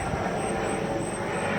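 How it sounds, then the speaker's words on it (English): A helicopter passes overhead with a steady, broad engine and rotor roar that stays loud and constant, no voices. "I don't know which helicopter that is."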